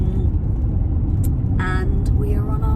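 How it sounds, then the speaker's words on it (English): Heard from inside a moving car on an early-morning drive, a steady, loud low rumble of engine and road noise carries on throughout, with a few brief higher squeaks and clicks near the end. "I am in the car and I am driving"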